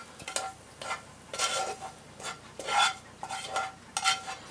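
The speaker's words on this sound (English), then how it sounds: "just going to go ahead and spoon it into here, save it in the bowl" Pasta is spooned into a bowl in a series of separate metallic scrapes and clinks, each a short burst with brief pauses between, close and clear without speech.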